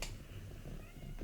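A cat lets out a faint, short meow at close range, a brief vocal sound with no talk around it.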